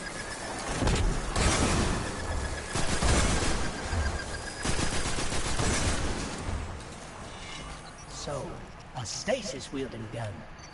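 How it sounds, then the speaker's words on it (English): Rapid bursts of fire from the Braytech Werewolf auto rifle in a sci-fi shooter, dense chattering shots through the first half before tapering into scattered impacts, with someone talking over the action. "this auto rifle here, the Braytech Werewolf"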